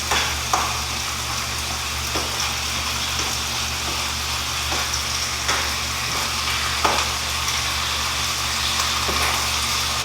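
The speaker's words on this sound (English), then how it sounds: "It's starting to brown on the bottom of the ground beef. So what you do is just break it apart." Ground beef sizzles steadily in a hot pan, a dense continuous fry close up, broken by a few faint scrapes and taps as the meat is pushed apart.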